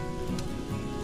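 Steady rain falling outdoors during a grill session of fish and eggplant, a dense even patter on surfaces with a brief brighter splash, no voices.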